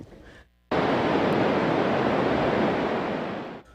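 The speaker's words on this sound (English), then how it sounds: "That's water rushing over Hinckley Dam this afternoon." Water rushing over Hinckley Dam during a Power Authority release, a loud, steady broadband roar that starts abruptly after a brief quiet moment and holds unbroken for about three seconds before fading slightly.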